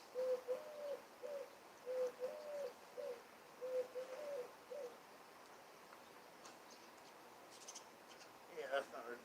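A large pigeon coos in a steady series of low, soft notes for several seconds, then falls quiet while faint background noise and a brief scratchy rustle follow near the end.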